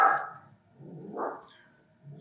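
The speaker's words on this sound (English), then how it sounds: "Cookie, why are you growling?" A dog named Cookie growls at people out in a hallway, a few low rumbling bursts rising and fading over about two seconds, close by and with no talk over them.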